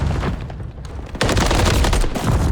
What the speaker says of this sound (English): it's Kismet with the wall bang that'll shut him down